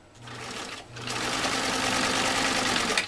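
A PFAFF 332 sewing machine stitching through 18 oz leather, starting with a short motor burst, pausing, then running in a loud, sustained whirring stitch up close.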